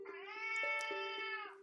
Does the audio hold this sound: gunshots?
no